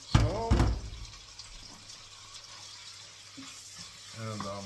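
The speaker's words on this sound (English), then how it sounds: "I have put some butter in the pan, and I'm gonna fry it in high temperature" Elk or beef meat goes into hot butter in a pan, giving a burst of loud sizzling at the start that settles into a quieter, steady crackle and swells again at the end. A voice talks briefly.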